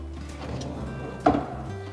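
A drawer in a custom-built wardrobe slides open or shut with one short knock near the end, over low room hum in a quiet house interior.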